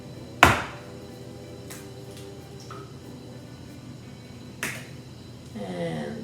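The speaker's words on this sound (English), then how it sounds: "You can crack the eggs beforehand in a container, making sure you have no shells all in it." Two eggs cracked into a container in a community kitchen: a sharp crack, then a softer second crack several seconds later, each followed by light wet dribbles.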